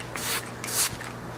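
Ilia Blue Light Filter setting spray misted onto a face in short bursts, two main hissing sprays close up with softer rubbing in between, no talking.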